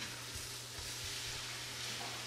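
Cauliflower rice frying in a pan, a faint, even sizzling hiss throughout with a low steady hum beneath and no talking.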